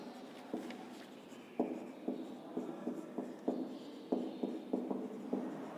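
Pen scratching across paper in a classroom setting, a series of short, regular strokes about every half second, close and fairly quiet over a soft room hiss.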